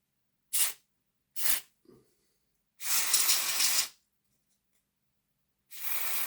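Several short hissing spray bursts of cleaner aimed at a Hornby Class A3 model locomotive, with two quick puffs, a tiny click, then a long sustained spray and another starting at the end, close and fairly loud.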